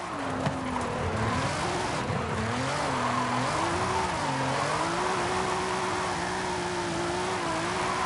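A Nissan GTR drift car in Forza 5 drones loudly and continuously, its engine pitch wavering up and down as it revs through slides, with a steady hiss of tyre and road noise throughout.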